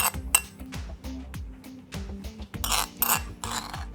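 A spoon clinking and scraping against a dish as chili and coriander dressing is gently spooned over eggplant salad, a steady run of small close metallic taps with brighter clatter near the end, no voices.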